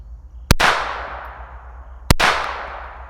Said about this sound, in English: Now we got the Sig 322. We'll put 2 rounds down range unsuppressed.